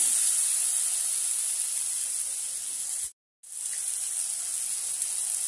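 Spices fry in a pan with salt as ghugni, a dried-pea curry, is cooked, giving a steady, bright sizzle that cuts out for a moment and then resumes.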